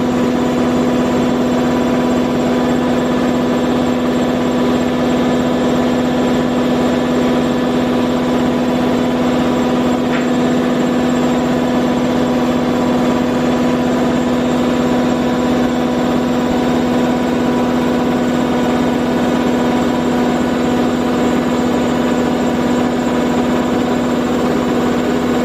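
An engine idles at about 1000 RPM, a loud, steady drone with an unchanging hum and light vibration holding evenly from start to finish, with no voices.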